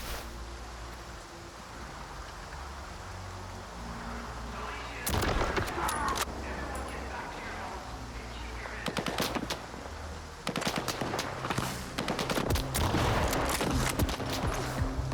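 Bursts of automatic gunfire from the player's own weapon in S.T.A.L.K.E.R. 2, with rapid cracking shots in several clusters over a steady ambient background, loud and close, and faint voices in the mix.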